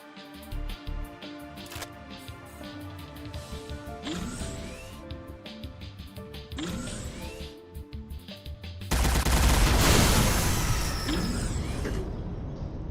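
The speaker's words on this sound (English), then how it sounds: "They shoot really fast." Enemy gunfire in the spy shooter Agent 64 fires rapidly amid mechanical clanks and creaks, building into a louder, denser burst of shots near the end.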